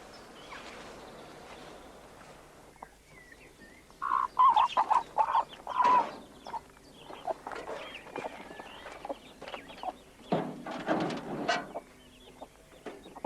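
Chickens cluck and squawk around a chicken house built from recycled wood, with short irregular calls at close range scattered over quiet outdoor ambience. Clustered bursts of clucking rise in the middle and near the end.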